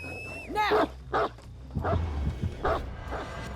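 The Hound Master's dog in Dead by Daylight barks and yips in several sharp close bursts, with a whimpering tone, over low game ambience and a brief rising electronic whistle at the start.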